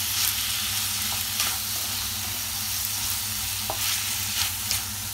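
Spices being stirred into food in a hot pan, a continuous close sizzle broken by periodic scrapes and clinks of the utensil against the pan, with no speech.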